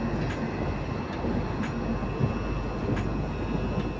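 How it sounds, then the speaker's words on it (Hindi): The Ballia New Delhi Superfast Express pulls out of Aunrihar Junction, a loud continuous rumble of rolling wagons with rhythmic clatter over rail joints, heard close from on board. "गाड़ी हमारी डिपार्ट कर रही है अपनी second stoppage Aunrihar junction railway station से"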